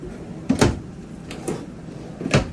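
Drawers in a 2022 Forest River Grey Wolf 304RK travel trailer sliding open and shut, three sharp close thumps spaced across a quiet interior, near and distinct.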